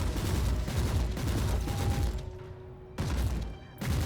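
Rapid gunfire in the combat game Warhammer 40,000: Inquisitor – Martyr rattles out in dense, loud bursts, dropping off briefly and then resuming, with no talk over it.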